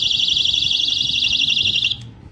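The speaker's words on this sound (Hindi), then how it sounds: "ये पर्सनल अटैक अलार्म है जी" A handheld personal attack alarm, pulled to trigger, emits a loud, piercing warbling electronic siren that holds steady for about two seconds and then cuts off abruptly, close up with faint background noise.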